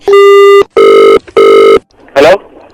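A phone line gives three loud, evenly spaced beeps of a disconnect tone, each about half a second long. A short burst of voice follows.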